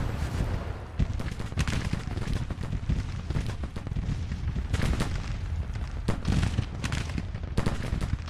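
Massed gunfire and artillery from a Grand Tactician Civil War battle, a dense continuous rumble with repeated sharp reports and heavy booms, loud throughout, with talk over the fighting.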